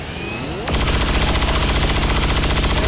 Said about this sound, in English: Let's use our suppressing fire on him next